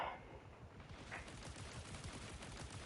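Rapid gunfire from a video game during a story quest, a dense continuous rattle of shots filling the whole stretch at steady loudness with no talk over it.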